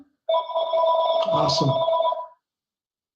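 A telephone rings during an indoor podcast conversation, sounding a loud, sustained electronic ringtone with steady tones for about two seconds, then stopping abruptly. A short spoken word overlaps it.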